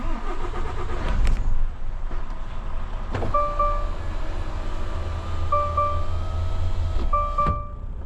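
A heavy truck pulls away and drives off, its engine rumbling low and steady, with a few sharp clunks and clicks and intermittent short tonal beeps over the drone.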